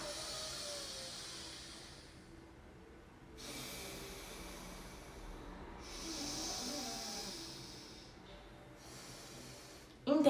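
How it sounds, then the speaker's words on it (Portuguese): Alternate nostril breathing exercise, with slow, long airy inhales and exhales through the nose in several drawn-out passes, fairly close and quiet, ending in a brief louder burst. "puxar o ar por esse lado aqui. Para, prende e solta pelo outro lado."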